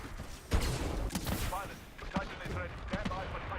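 Bursts of heavy gunfire crackle through Titanfall 2 combat in several volleys across a few seconds, loud and close, with a voice talking underneath.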